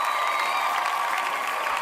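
Applause clapping sound effect during a livestream about a Nintendo Direct: a steady, dense wash of many hands clapping at moderate level, brief and continuous with no talk over it.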